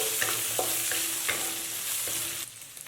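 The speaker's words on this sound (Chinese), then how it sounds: "放入切好的五花肉片翻炒，烤到五花肉片表面发黄" Sliced pork belly stir-fries in a wok with a steady, loud sizzle, broken by a few rhythmic scrapes of the spatula, before the sizzle drops away near the end.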